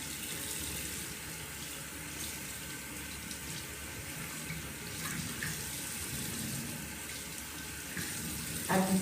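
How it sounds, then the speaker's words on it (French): A tap runs steadily into a sink while hands are wetted for handwashing, a soft continuous water stream heard at low level with small splashes. "Vous devez premièrement vous mouiller les mains."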